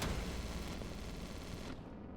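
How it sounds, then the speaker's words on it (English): Dense, continuous gunfire and artillery-like bursts from units fighting in the strategy game Line War, loud and sustained throughout before thinning slightly at the end, with no voices. "But they're going to try and shoot him anyway."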